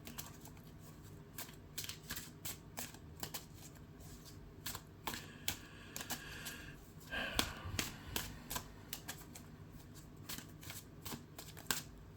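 Playing cards drawn and shuffled during a tabletop card game, a run of quick soft riffling and flicking snaps scattered through the clip, with one denser shuffle burst in the middle, close up and fairly quiet.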